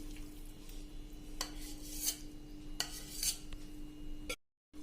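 A spoon scrapes room-temperature malai cream out of a container into a pan for making ghee, with several soft scoops and metallic clinks heard close up, then a brief silence.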